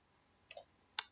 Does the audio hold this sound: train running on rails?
no